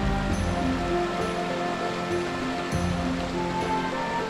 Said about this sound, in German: wo der wild romantische Bach fließt